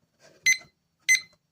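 Two sharp, bright beeps from a study timer, about half a second apart, each clear and loud against silence.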